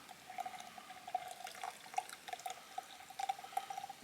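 Warm rendered fat is poured into a container outdoors as a quiet, steady trickling stream with small drips and splashes, close by and faint.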